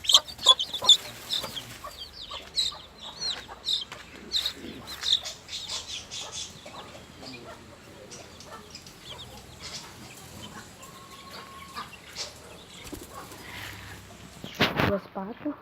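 Chickens in a large aviary, a male and a smaller female, clucking in short irregular bursts close by while a person talks quietly in Portuguese.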